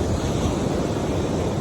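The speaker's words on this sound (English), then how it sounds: "And there's the ocean" Steady, broadband wash of ocean surf close by, with wind noise buffeting the microphone, continuous and without any talk.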